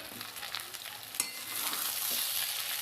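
Poha being stirred into fried onion masala in a pan, a soft continuous scraping sizzle with gentle irregular stirring strokes and one sharp clink midway, steady and close throughout.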